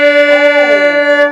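A violin bowed on the D string with the third finger placed too low, so the note sounds flat. It is one sustained, rich tone of about a second and a half with a gently pulsing bow, close and loud, alone.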